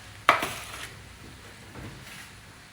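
A pan of oven-fried chicken goes back into the oven with a sharp metallic clank, followed by a quieter knock and rattle a little later in an otherwise quiet kitchen.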